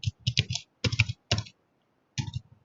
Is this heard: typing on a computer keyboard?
yes